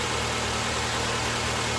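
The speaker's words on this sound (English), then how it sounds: "Alright guys, the engine is running smooth." A 2008 Nissan Sentra engine idles steadily after a valve cover gasket, spark plug and ignition coil replacement, a close, even, continuous hum with no talk.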